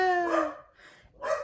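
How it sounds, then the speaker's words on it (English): A dog barks and yelps at the mailman, giving a couple of sharp, whiny barks indoors at moderate volume with a brief pause between them, with no talking. "I think the dog is going to go crazy in about 2 seconds because the mailman is here"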